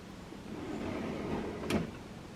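A kitchen drawer in a pole-barn home converted to a house slides open or shut once, a short close scrape and knock rising above a steady low room hum, with no talking.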